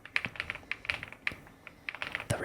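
Typing on an Epomaker Galaxy100 full-sized keyboard, a close, quiet run of crisp clacky keystrokes in an irregular rhythm with brief pauses, heard alone.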